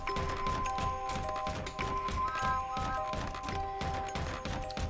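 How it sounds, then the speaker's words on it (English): Windows banging in the horror game Layers of Fear: a steady series of loud, rhythmic thuds and knocks repeating about twice a second throughout, over sustained musical tones. "the windows are banging along too"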